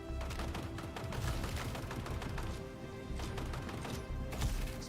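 Dense video-game gunfire, rapid automatic bursts and sharp shots layered over one another in a continuous loud firefight.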